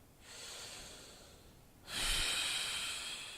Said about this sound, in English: All I have to do is just breathe throughout.